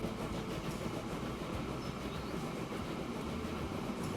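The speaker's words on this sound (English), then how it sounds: "There's our train." A train rolls along in the video game Transport Fever 2, a steady loud rumble with a faint rhythmic clatter that carries unbroken throughout, with no talking over it.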